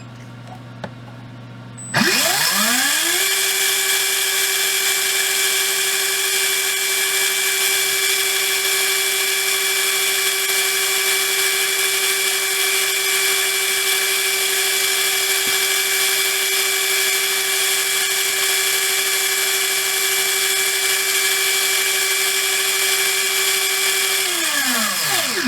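A Hobbywing 17.5T V10G4-R brushless RC motor on a bench test spins up abruptly to a loud, steady high-pitched whine, holding constant for about twenty seconds before winding down, with no talking over it.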